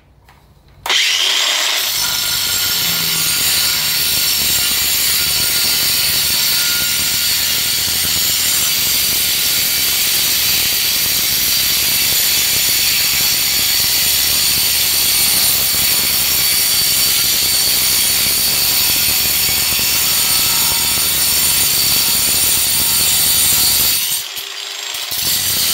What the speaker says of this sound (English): We're going to cut this concrete block and see how well it cuts through.